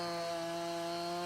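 A chainsaw in Farming Simulator 19 drones steadily as it cuts down a tree, a sustained buzzing tone with no pauses or voices, loud and close.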